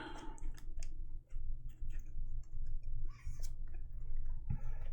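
Magic: The Gathering land cards shuffled by hand, a close run of quick riffling clicks and soft flicks in short bursts over a low background hum.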